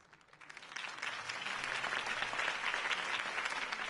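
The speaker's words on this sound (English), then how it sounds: "could have heard that applause" Crowd applause swells from a quiet start into steady, dense clapping that holds loud and sustained to the end.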